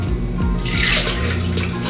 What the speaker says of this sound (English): we're going to pour the mango juice in here